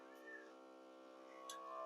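A cat meows a couple of times in a milking barn, a faint nearby call over the steady drone of running milking machinery.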